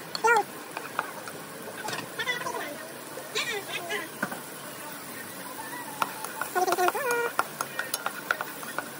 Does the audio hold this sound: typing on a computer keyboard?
no